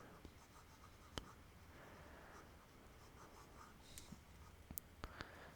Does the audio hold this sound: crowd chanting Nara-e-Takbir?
no